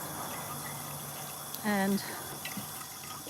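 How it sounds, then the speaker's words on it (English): Water runs from a tap into a bottle for a short burst with a rising gurgling pitch as it fills, faint under a steady outdoor background hiss, a single spoken word nearby. "I fill up a bottle of water."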